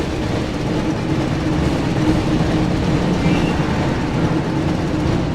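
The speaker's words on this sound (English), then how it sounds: "Looks like we found the train, Ron." Continuous loud rumble and rhythmic rail clatter of a train running through a tunnel in the PS1 game Harry Potter and the Chamber of Secrets, a steady dense roar with no pauses.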